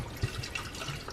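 Distilled white vinegar pouring into a kettle, a soft continuous liquid trickle at close range with small splashy bumps, quiet and steady over about a second with no talking.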